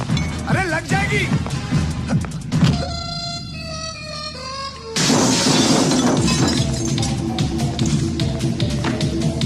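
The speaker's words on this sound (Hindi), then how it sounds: "तुम मेरे 2000 रुपये का कांच तोड़ा।" A glass pane smashes in a Hera Pheri comedy film scene: a sudden loud shattering crash cuts into tense background music, followed by ringing debris and agitated shouting voices.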